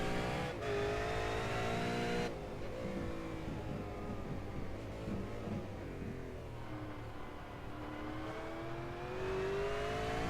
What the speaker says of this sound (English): Just going to ride on board with